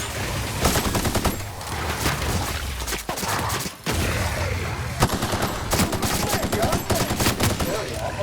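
Gunfire rattles in The Outer Worlds, rapid automatic bursts and single shots crackling close and loud, with brief pauses between volleys.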